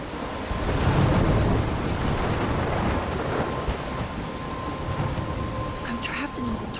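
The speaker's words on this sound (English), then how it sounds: "I'm trapped in a storm?" A thunderstorm in the video game Life is Strange Remastered brings steady heavy rain, deep rolling thunder and gusting wind, with a voice speaking over the storm.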